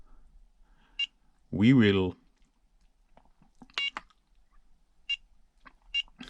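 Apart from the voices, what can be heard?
beeps of lap timer on RC car radio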